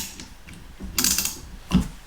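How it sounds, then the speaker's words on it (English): A hand ratchet clicks in short bursts while the cylinder head is removed from a Triumph Tuscan, two brief close metallic clicking runs over a quiet workshop background. "bloody ratchet"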